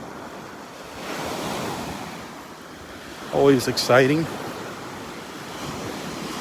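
Surf rolling onto the beach at Delnor-Wiggins, a steady broadband wash of breaking waves with wind, briefly overlaid by someone speaking a few words midway.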